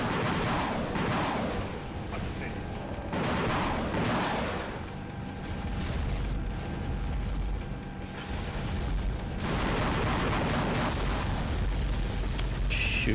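Rocket explosions and mechanical clanking in the robot combat game War Robots, dense and continuous battle noise with repeated booming bursts throughout.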